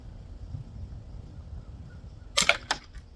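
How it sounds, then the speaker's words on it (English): A sharp shot from a non-lethal ball-bearing launcher at a cup, a quick crack followed by a second snap moments later, close and fairly loud after near silence. "Let's shoot that cup right there."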